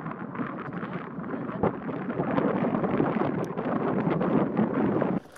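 Strong wind roars steadily across the exposed summit of Bakestall in the Lake District, buffeting the microphone in loud, continuous gusts with no pause.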